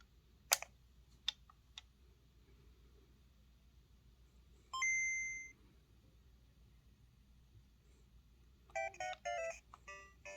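An original Game Boy powering up with batteries and a contrast dial: a few sharp switch clicks, then the short two-note startup chime ringing out clearly, followed later by a burst of quick electronic bleeps, all over faint background hiss.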